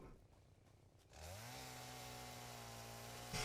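A chainsaw in the game Satisfactory starts up after a second of low ambient hum, then drones steadily at a constant pitch, loud and sustained to the end without any talk.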